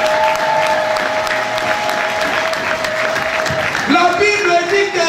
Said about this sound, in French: Est-ce qu'on peut acclamer pour la gloire du Seigneur?